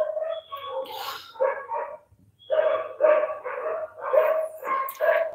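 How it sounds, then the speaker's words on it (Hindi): Several large, fierce pet dogs bark repeatedly in a residential housing society, loud and close, in rapid overlapping bursts with a short pause in the middle. "आपको आवाज जा रहा होगा ना, मेरी ये सोसाइटी में 2-4 ऐसे भयंकर भयंकर प्रकार के कुत्ते हैं ना पाले हुए"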